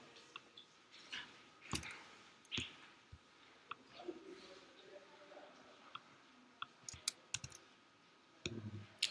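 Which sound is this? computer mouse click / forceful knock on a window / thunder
computer mouse click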